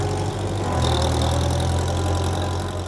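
Tractor engines idle together in a steady, loud low rumble as a large parade of nearly 1,400 tractors gathers to cross the Mackinac Bridge, with no talk over the continuous drone.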